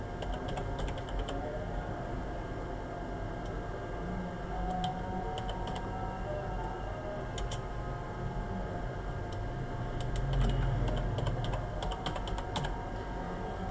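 Typing on a computer keyboard while setting up a Seagate 8TB hard drive, with quick clusters of light key clicks in short bursts over a steady hum of room noise.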